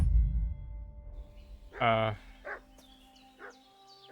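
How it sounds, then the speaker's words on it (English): A dog in Kingdom Come: Deliverance 2 barking a few sharp, separated times at moderate distance, with a low rumble at the start and faint background tones. "Dog's barking. What's that dog making such a fuss about?"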